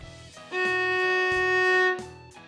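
A single sustained bowed violin note, second finger on the D string, steady and clear, held for over a second between quieter bowing sounds.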